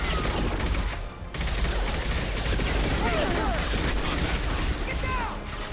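Gunfire in the shooter Mass Effect 2 crackles in rapid bursts across a loud battle, with shots stacking into a steady fusillade and a brief lull partway through.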